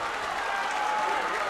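Stadium crowd at a Stranraer FC football match applauding a brilliant save by the goalkeeper, steady dense clapping and crowd noise throughout, fairly loud and continuous.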